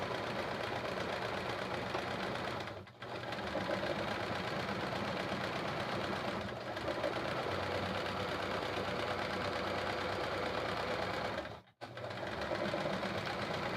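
A sewing machine runs steadily during free-motion quilting, a close, continuous mechanical whir with a fine rapid needle rhythm. It stops briefly twice and a third time shortly before the end, each time picking up again.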